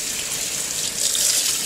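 A kitchen sink faucet runs in a steady, close hiss of flowing water splashing into the basin, with no voices.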